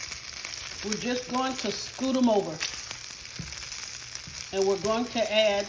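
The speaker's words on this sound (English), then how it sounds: "let me get the skillet on. I'll come back and we'll brown these sausages" Sausages browning in a skillet give a constant close sizzle and crackle, with a person talking over it at intervals.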